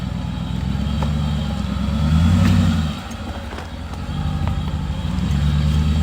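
A lifted, built Dodge Ram on 37-inch tires crawling up a rocky rock bed: a loud, steady engine drone that swells under load, dips briefly, then builds again, close to the vehicle.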